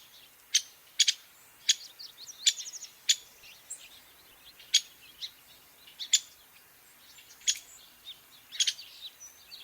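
A recorded call of the Nuttall's woodpecker, a near California endemic, plays as a series of sharp, high, clear notes repeated at irregular intervals, with no talking.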